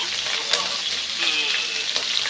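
Cumin seeds fry in hot oil in a pan on a village cooking fire, giving a continuous dense sizzle with faint stirring scrapes, close and steady throughout.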